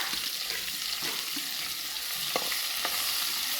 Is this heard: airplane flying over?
no